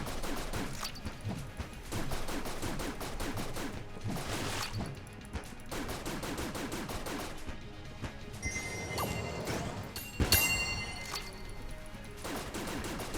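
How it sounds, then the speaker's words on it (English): Rapid gunfire from a weapon in the video game Enter the Gungeon, dense repeated shots in fast bursts with short pauses, plus a few sharp metallic impacts and clinks partway through, alone without talk. "That's a pretty good gun."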